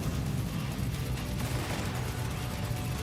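Death Stranding 2 weapon with a very high fire rate, a dense unbroken roar of rapid gunfire filling the whole moment, loud and close with no talking.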